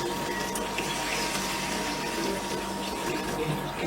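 Water gushing steadily into a pot of rice, five cups poured in a home kitchen, a continuous rushing fill lasting several seconds with no pause, fairly loud and close.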